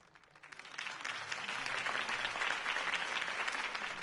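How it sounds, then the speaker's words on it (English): Crowd applause in a video game bursts out, swelling quickly and holding as a dense, steady clapping from many hands. "could have heard that applause"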